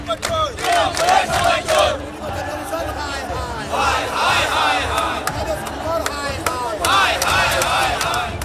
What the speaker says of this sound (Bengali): চলতে থাকে স্লোগান পাল্টা স্লোগান।